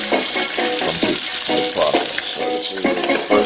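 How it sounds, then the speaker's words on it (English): Baby back ribs sear in a hot pan for Jamaican-style ribs, crackling and sizzling continuously up close with stirring bursts. "getting all these seared, the BabyBack ribs seared, are brown"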